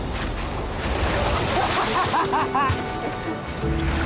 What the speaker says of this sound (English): Those waves look really big over there. And they're coming right at us.